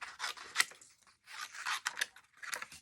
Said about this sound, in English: just fussy cut this one real quick